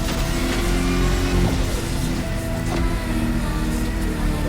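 Electric car motor in The Crew Motorfest, 250 kilowatt power, a loud continuous whine with layered tonal hum and road rumble, steady throughout with no talk.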